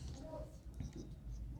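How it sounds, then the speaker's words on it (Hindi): Chalk or marker scratching across a board while writing out a word, soft and continuous and close up, with someone speaking Hindi over it. "मैक्रो न्यूट्रिएंट्स को मैं लिखता हूँ"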